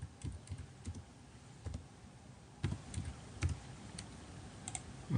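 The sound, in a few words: typing a captcha on a computer keyboard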